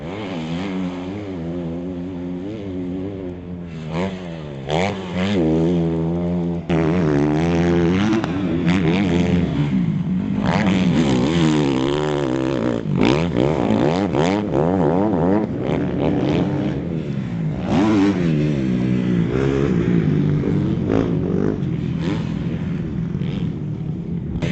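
A 2010 Honda CRF20R motocross bike runs steadily close by, its engine buzzing loud and continuous with repeated revs rising and falling as it rides and turns.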